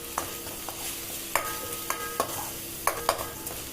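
Crushed garlic frying for a Madras-style fish gravy, with a steady low sizzle broken by several sharp scrapes and clacks of a spoon stirring in the pan, moderately close.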